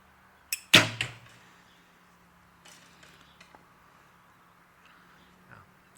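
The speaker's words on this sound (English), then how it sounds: "the bow sounds a lot better with a heavier arrow being shot" A recurve bow fires a heavier Skylon Paragon arrow outdoors: a sharp, loud string release and thump, followed by faint distant impact ticks and quiet surroundings.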